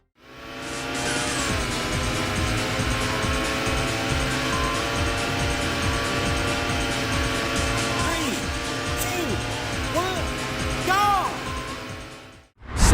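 Race cars in the Sega arcade game Daytona USA drone loudly as engines rev and shift pitch, with tire squeals and sweeping passes over a busy game mix, then a brief cut to silence near the end.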